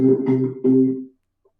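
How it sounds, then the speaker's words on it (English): A Hammond B3 organ sounds a held C note with its normal tone, three sustained pulses of steady organ chord that stop cleanly, played alone. "So normally the C would sound like this."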